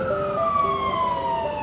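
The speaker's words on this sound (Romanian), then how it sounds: "A venit ambulanța, a întors aici, deci are o urgență" An ambulance siren wails on a city street, a loud, near electronic tone gliding in pitch over steady traffic rumble, sustained throughout.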